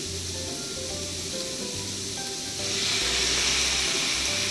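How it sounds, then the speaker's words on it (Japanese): Sake poured into a hot pan of daikon kinpira brings a sudden louder burst of sizzling about halfway through, a steady frying hiss with no talk. "お酒入れますよ"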